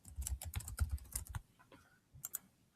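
Rapid bursts of keystrokes on a computer keyboard while an email address is typed, close and clear, in quick irregular clusters with a short pause before a final few taps.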